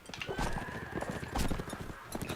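Horses gallop in a medieval Roman-invasion combat video game, giving a steady rapid clip-clop of hooves with a neigh and clashing battle noise layered over it, moderately loud and continuous.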